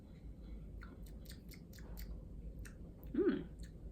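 Someone chewing buffalo cauliflower close up, with soft repeated crunchy clicks at an irregular rhythm over a low hum and a brief murmur near the end.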